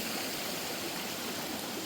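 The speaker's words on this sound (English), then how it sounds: "the water is much more like a regular brook" A mountain brook on Mount Moosilauke rushes steadily beside a hiking trail, a continuous close wash of flowing water with no breaks and no voices.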